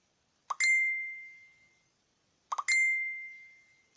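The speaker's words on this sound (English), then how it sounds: "My tablet's catching up with my phone for beeps" Two notification chimes from a phone and tablet, each a short plucked attack followed by a ringing tone that fades over about a second, spaced two seconds apart in an otherwise quiet room.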